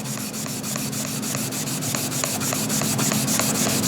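A pumice-impregnated foam rubber block scrubs back and forth across an Arkansas sharpening stone, giving a steady gritty rasp with quick repeated strokes, close and fairly quiet, no talk.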